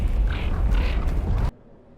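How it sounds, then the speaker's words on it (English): Cart being pushed in Horizon Forbidden West, a loud continuous low grinding and creaking of its wheels with a few higher squeals, cutting off abruptly to near silence. "This cart's squealing worse than a boar"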